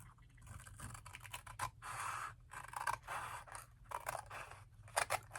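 Scissors cut paper for a handmade junk journal, with a rapid series of close, crisp snips and rustles in bursts over several seconds, fairly quiet and with no talk.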